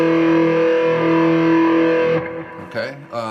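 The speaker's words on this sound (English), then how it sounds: "This is the full distortion sound." Electric guitar with full distortion, low E string in standard tuning, rings out as a sustained heavily overdriven chord for about two seconds, then cuts off into brief scratchy muted string noise.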